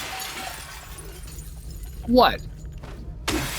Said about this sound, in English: There are more monsters that come and break in the glass.